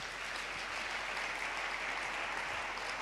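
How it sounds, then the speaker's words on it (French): Steady, dense applause from an audience at a church question-and-answer session with a pastor, continuous clapping at a constant level throughout with no talking. "Je vous demande d'acclamer l'intelligence"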